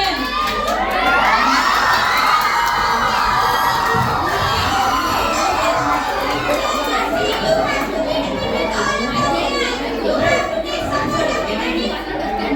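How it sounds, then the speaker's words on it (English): Children in a debate audience shout and cheer together loudly and without letup, a dense close crowd din with overlapping young voices. "Stop shouting, we can't understand what are you talking about."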